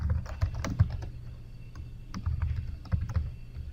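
Rapid keystrokes on a computer keyboard as a database query is typed, a steady run of light clicks with a few louder taps, close and alone with no talk.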